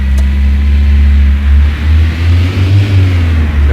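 Car engine in a driving simulator video game, a loud low drone that rises in pitch as the car pulls away and accelerates, with slight dips as it varies, alone without talk.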